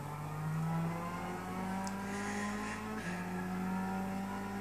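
Lexus SC430 GT500 race car engine in Gran Turismo 6 on the Nurburgring with worn tyres, a steady loud droning whine holding pitch down a straight, continuous with no talk.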